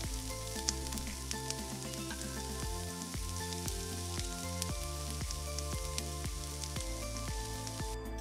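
Shallots sweating in a pan for spinach soup give off a steady, even sizzle that runs unbroken throughout, close and moderately loud, with faint music underneath.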